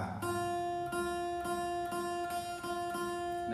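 The same guitar note, F played on the first fret of the first string, is plucked about six times in an even rhythm, each pluck ringing clearly with nothing else over it.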